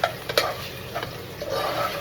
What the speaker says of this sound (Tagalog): Gisa lang po natin yung tahong. Halo-halo lang po ng konti.